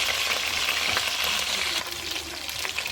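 Chicken for homestyle BBQ chicken sizzles and fries in a pot: a steady, dense crackling hiss, close and fairly loud, with a few stirring clinks and no talking.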